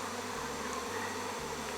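A swarm of thousands of honeybees drones close by during swarm catching, a steady dense buzzing hum that fills the air without pause.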